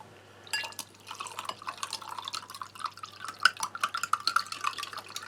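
Water is poured into a glass holding MRE drink powder, a close, bubbling trickle with sharp glassy drips and splashes that grow denser as the glass fills.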